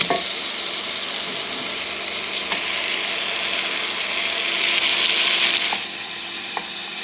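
Bacon frying in a pan, with a continuous close sizzle and crackle that swells louder for a moment near the end before easing back, and a few faint clicks along the way.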